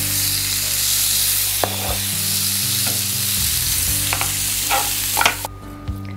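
Lamb chops for an orange Asian glaze sizzle loudly on oiled grill grates, a dense continuous hiss with occasional scrapes and taps of a utensil, close and with no talking.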